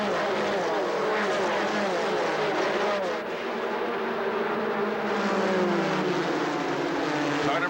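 Stock cars in a 1990 Busch Grand National race at Rockingham Speedway, a Buick coming out of turn 4 on the one-mile oval, producing a loud, continuous engine roar with shifting pitch that fills the whole stretch.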